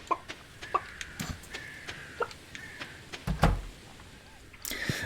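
Chickens in the farming game Stardew Valley cluck in short, scattered bursts alongside soft taps and clicks, moderately close, with no talking.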